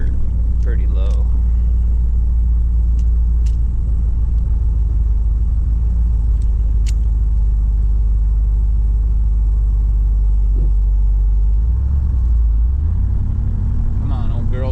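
An old project car's engine rumbles steadily and loudly throughout a drive, with a low idle-like drone that shifts in pitch near the end.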